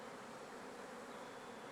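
Honey bees swarming and striking a glass plate used for venom collection, a faint, steady buzzing hum with no other sounds until a brief click at the very end.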